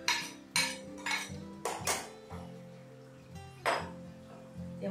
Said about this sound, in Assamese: এতিয়া ঘূৰাই থাকিব লাগিব।